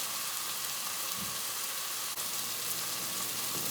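Flour and butter cooking in a pan for gluten-free chicken à la king, giving a steady, dense sizzle and crackle close up, continuous and even, with no talk.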